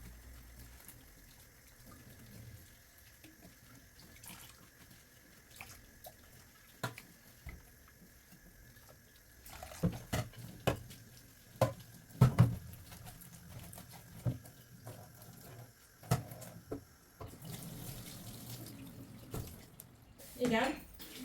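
Dishes washed in a home kitchen under a running tap of very hot water, a steady low stream broken by clinks and clatters of crockery that grow busier and louder midway, with faint voices at times.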